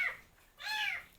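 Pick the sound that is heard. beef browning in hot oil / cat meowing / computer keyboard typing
cat meowing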